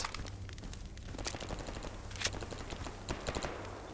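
Automatic gunfire from a zombified scientist in the game S.T.A.L.K.E.R. Anomaly, a fairly faint, steady stream of shots crackling repeatedly in the distance.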